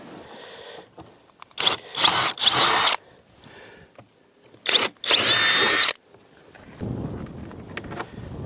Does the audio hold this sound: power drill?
yes